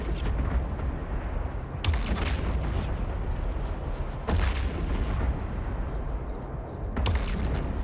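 Heavy weapons fire from sentry guns in the space game EVE Online, with three loud booming impacts spaced a few seconds apart over a constant rumbling background. No one talks.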